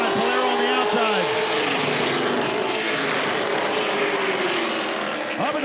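Stock cars roar past side by side in a CTS Affordable 250 race, engines loud and close, their pitch sweeping as they pass, with a voice talking over the din.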